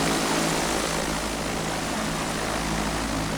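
Simulated Piper PA28 Archer III propeller engine in X-Plane 12 taxiing on a runway, a steady close droning hum with low harmonic buzz, continuous and loud throughout, no talking.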